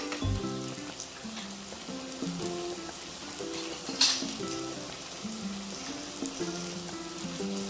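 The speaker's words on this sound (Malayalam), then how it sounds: "ഇതൊന്ന് പച്ചമണം പോകുന്ന വരെ ഒരു 2 മിനിറ്റ്സ് ഒന്ന് ഫ്രൈ ചെയ്യാം" Capsicum sizzles in a pan for chicken gravy, a soft, steady frying crackle running under louder recorded background music, with one brief sharper hiss midway.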